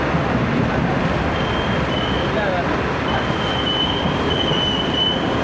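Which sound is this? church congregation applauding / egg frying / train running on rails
train running on rails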